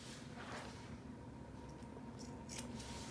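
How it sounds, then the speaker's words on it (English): Scissors clip the corners of sewn cushion fabric, a few quiet, close snips heard against a low background hum. "So the last thing we're going to do is clip the corners."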